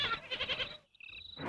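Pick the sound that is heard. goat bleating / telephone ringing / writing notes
goat bleating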